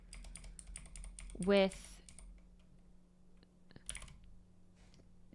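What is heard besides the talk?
typing on a computer keyboard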